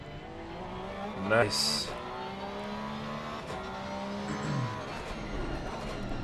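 Porsche race car engine in a racing video game at Donington Park, a steady mid-level drone with a brief rising rev, heard under a voice speaking a single word.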